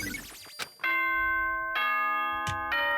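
A ding-dong doorbell-style chime from the Danganronpa: Trigger Happy Havoc video game rings out clearly, with bright sustained tones struck in a few successive notes, each sounding loud and alone.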